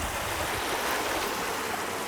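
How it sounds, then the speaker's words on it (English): Babbling brook running beside an outdoor work site, a steady broadband rush of flowing water with no talking, holding an even level throughout. "Got this babbling brook next to us all day long."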